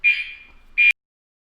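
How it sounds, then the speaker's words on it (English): A building fire alarm gives two short loud electronic beeps during room-by-room testing, the first lasting about half a second and fading, the second cut off abruptly after a brief pause. "and running the alarm very briefly for each room"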